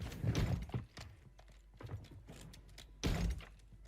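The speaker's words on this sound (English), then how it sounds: "You can hear footsteps in the building." Footsteps thud across a building interior in Call of Duty Warzone, a run of irregular heavy steps and clunks at moderate loudness, with a louder burst of impacts near the end.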